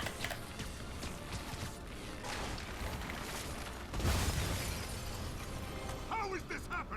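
Glass shattering during combat in Marvel's Spider-Man (2018) video game, a crash buried in a dense, continuous wash of game noise with rumbling impacts and a louder surge midway.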